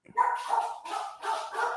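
A dog barks in a short series of three or four loud, close, yappy barks with brief gaps between them, alone with no talk.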